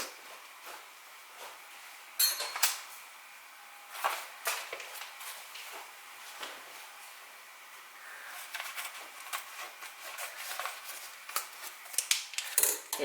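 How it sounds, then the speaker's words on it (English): Homemade dog food with ground venison and pork stirred in a pot, with scraping and clinking of the spoon in irregular bursts, fairly faint and close, no talk. "Let's stir this up some more"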